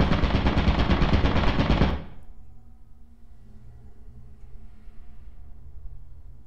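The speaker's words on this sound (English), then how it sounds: "I think there's a turret." Turret in the video game Lethal Company firing a loud, rapid automatic burst for about two seconds, then stopping abruptly, leaving a quiet low hum.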